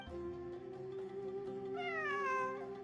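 Cat meowing in the game Genshin Impact: a single drawn-out, clear meow lasting nearly three seconds, rising in pitch toward the end, close and distinct with no talking.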